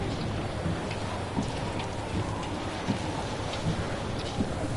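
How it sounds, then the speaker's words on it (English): Steady heavy rain pours down in a rainstorm, a dense continuous hiss with a few faint low rumbles of thunder underneath, and no voices. "We got a storm hitting us here."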